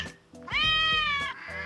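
A house cat meowing close by, one long drawn-out, rising-then-falling meow preceded and followed by shorter softer vocal chirps.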